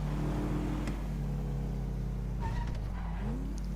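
A car engine in GTA Online idles and revs steadily at Los Santos Customs, a constant low drone with a couple of brief rising revs, no talking.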